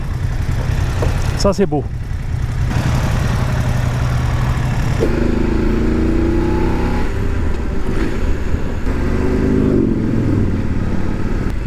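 A motorbike engine drones loudly and steadily on a scenic ride, wind and rumble throughout, with engine notes rising and falling as it passes another Ducati motorcycle; a rider speaks briefly over it.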